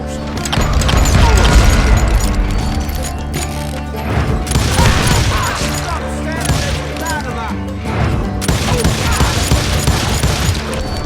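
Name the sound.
gunfire from hired guns in a video game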